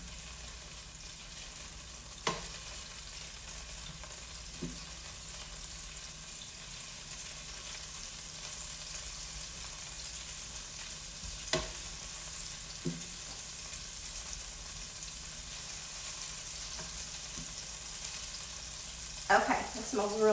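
Garlic sizzling in a pan with oil, a soft steady frying hiss with a few clinks and scrapes of a utensil, and a brief spoken comment near the end.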